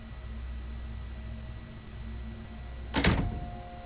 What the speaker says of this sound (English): You close the door behind you.